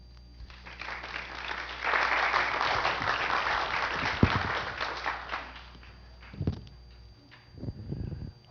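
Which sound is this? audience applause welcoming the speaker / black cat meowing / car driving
audience applause welcoming the speaker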